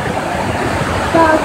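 Waterfall inside Kaklık cave in Honaz, Denizli, heard as a steady broadband rush of falling water that fills the whole clip at an even level, with a brief faint tonal sound near the end.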